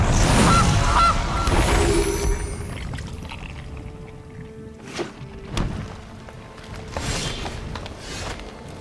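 A goose card in the digital card game MTG Arena honks loudly at first, then a couple of softer game chimes and effect sounds follow.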